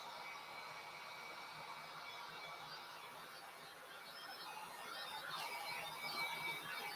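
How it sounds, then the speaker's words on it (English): A heat gun blows steadily with a smooth whooshing roar while drying eggs, close and fairly quiet, growing slightly stronger near the end. "I absolutely love this heat gun"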